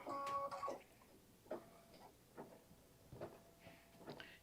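A Kimberbell embroidery machine stitches a 5x7 design, giving a faint, quiet series of irregular mechanical ticks and soft clicks, one slightly louder whirring tap at the start.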